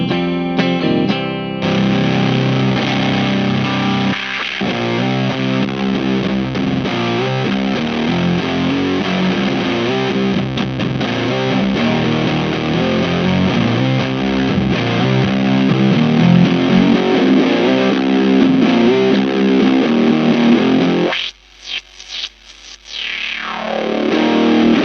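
Electric guitar in C standard tuning run through a Dreadbox Disorder fuzz pedal, loud, thick sustained distorted chords playing continuously, then cutting out briefly near the end before a final fading burst.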